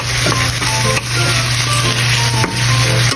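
Onion hits hot cooking oil in a pan and sizzles loudly and steadily, with a few sharp clicks and scrapes of stirring close by.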